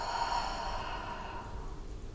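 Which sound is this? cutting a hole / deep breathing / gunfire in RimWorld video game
deep breathing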